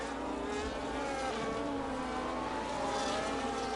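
Race cars head into the pits during a race, a steady, loud engine roar filling the scene with continuous mechanical drone and no voices.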